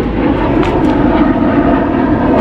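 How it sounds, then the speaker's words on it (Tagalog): Two Taiwanese military fighter jets passing overhead near a fishing boat at sea, a loud broad roar that rumbles steadily throughout the clip. "may dalawang jet fighter."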